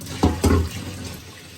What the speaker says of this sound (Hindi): और अब हम इसके अंदर थोड़ा पानी डालते हैं